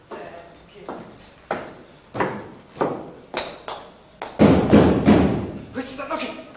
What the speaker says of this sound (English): Who's that knocking?